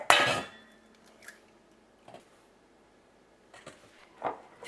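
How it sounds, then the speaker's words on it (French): Eggs being cracked and separated into whites and yolks for an Italian-style lemon mousse, with a sharp crack and clink of shell against a bowl, then a few lighter taps and clatters in a quiet kitchen. "Ensuite, on sépare les blancs des jaunes."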